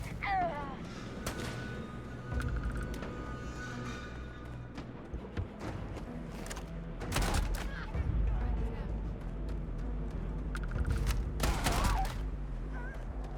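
Gunfire from a weapon in the video game Starfield crackles in scattered bursts of sharp shots and thuds over game sound, with heavy impacts around the middle and again near the end.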